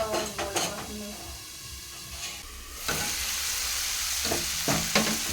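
Potatoes, drumstick pods and tomatoes fry in a pan on a gas stove, a steady loud sizzle that swells midway, broken by several metallic clinks and scrapes of a spoon against the pan.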